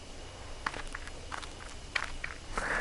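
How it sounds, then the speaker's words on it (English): Footsteps crunch and rustle through bushes in the horror video game Death Mark, a handful of light irregular steps at middle distance, faint and alone over a quiet background. "did you hear footsteps too?"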